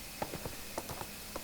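Horse hooves clip-clop at an even walking pace in the video game ArcheAge, about six moderately loud footfalls alone over a faint steady background.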